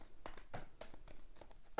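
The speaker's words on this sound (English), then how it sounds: "Let's get a really good shuffle here for you." Tarot cards being shuffled by hand, a quick close run of soft papery riffles and flicks in uneven bursts, faint and alone.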